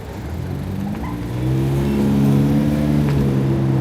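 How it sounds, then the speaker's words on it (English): A car accelerating as it makes a right turn on a Toronto street, its engine rising in a steady mid-pitched drone that grows louder nearby, heard from a moving scooter amid wind and road noise. "This car here is making a right."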